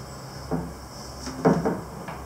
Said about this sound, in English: The lid opens like that.